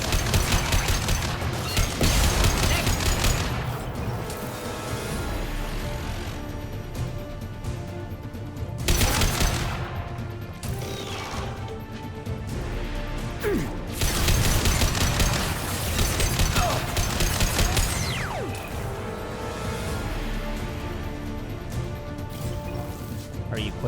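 Sci-fi gunfire and impact crashes from a firefight against Geth in Mass Effect 2, continuous and dense with bursts of shots and louder blasts recurring over a droning game soundscape, with occasional talk mixed in.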